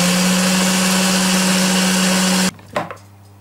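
An electric cream mixer whips butter, its loud, steady motor whine running continuously before cutting off abruptly, leaving a brief clatter and a quiet low hum.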